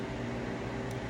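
Freeze dryer running with a steady mechanical hum and a constant airy whir, even and unbroken at low level, no voices.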